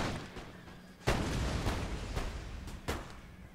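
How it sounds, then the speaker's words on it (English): Musket fire from elite Fusiliers in Napoleon Total War, several sharp cracks and booming shots at irregular intervals rather than a single volley, with a loud report near the start and another near the end. "So instead of delivering volleys, they'll keep like a constant fire down upon us."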